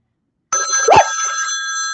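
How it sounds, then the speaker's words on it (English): A mobile phone rings loudly and close by during a live pop-up sale, its bright multi-tone ringtone starting abruptly and sustaining steadily, with a brief thump partway through. "My phone scared me."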